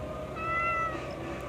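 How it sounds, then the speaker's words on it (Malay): A cat meows loudly in one drawn-out, rising and falling call, close and clear over a steady background hum. "ingatkan kucing tu akan berhenti, tapi dia apa? Dia makin kuat mengiau."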